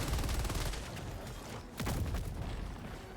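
Gunfire from the video game Helldivers 2 rattles in a dense, continuous barrage of rapid shots with booming impacts, loud and close throughout, with a brief dip midway before the firing swells again.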